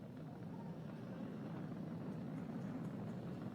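A Falcon 9 rocket climbing during ascent, its engines throttled down near maximum dynamic pressure, gives a steady, distant broadband roar that holds constant with no breaks.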